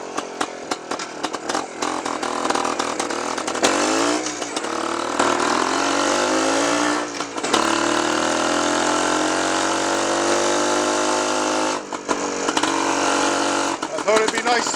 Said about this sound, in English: here we are at the bottom end of the Roman Road on what was my first bike, the BSA Bantam from 1956